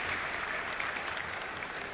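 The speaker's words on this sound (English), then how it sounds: "Liu Yun there, acknowledging the applause from the crowd." Crowd applause for gymnast Liu Yun's vault at a 1986 World Cup gymnastics event, a steady dense wash of clapping from a large arena audience, loud and continuous.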